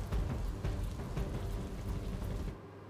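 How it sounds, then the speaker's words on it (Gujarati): Heavy monsoon downpour over Navsari in South Gujarat during flooding, a dense, steady roar of rain hammering surfaces with a deep rumbling low end, loud and continuous before dropping away abruptly near the end. "તાપી અને સુરત જિલ્લામાં ધોધમાર વરસાદ વરસતા"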